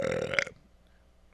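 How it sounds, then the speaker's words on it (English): A person makes a mouth fart noise, a short, loud, buzzing, wet blurt lasting about half a second, followed by near silence. "that was like a good 12 seconds of just mouth fart"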